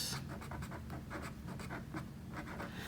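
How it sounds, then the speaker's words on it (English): Marker writing on a board during a math lesson, a rapid series of short scratchy strokes in a quick rhythm, close and clear with no talk over it. "I'm gonna write that in a new color"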